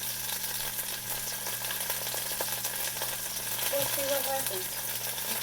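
Cut-up Beyond Sausage Hot Italian pieces sizzle in a pan with a steady hiss and faint crackle under a low hum, while a person briefly talks over it.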